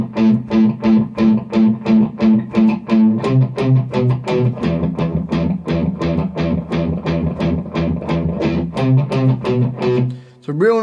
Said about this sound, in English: Just the open A string, and you're going to play it 8 times in that first bar like this.